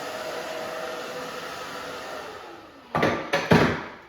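A handheld hair dryer blows steadily on short pixie-cut hair at a salon, a continuous close whoosh that runs through most of the clip before a few louder bursts and shifts near the end.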